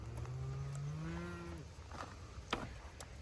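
Cows and calves moo in a barn with crushed hay on the floor, one long low moo followed by a higher drawn-out call, with a soft rustle and a brief knock afterwards.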